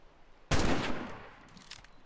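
A Hydra gun in a roleplay video game fires one sharp, loud blast that rings and decays over about a second. Fainter shots follow after it.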